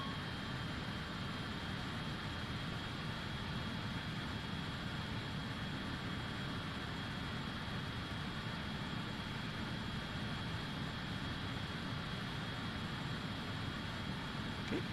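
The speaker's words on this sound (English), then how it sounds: "Let's go ahead and start the APU." Steady, continuous engine whine with a thin high tone as the auxiliary power unit runs on an Avro RJ airliner in a flight simulator, an unchanging drone with no talking.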